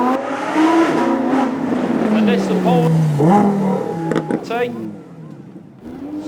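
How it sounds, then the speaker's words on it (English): An Audi V10 supercar passes at a supercar weekend, its rising and falling engine note climbing through revs and gear changes before fading, with someone speaking over it. "You're about to hear the Audi version of this coming."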